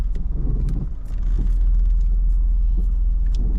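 A car pulls away during a Florida driving test in Broward County, its low engine rumble swelling steadily after a brief pause and holding a close, even drone.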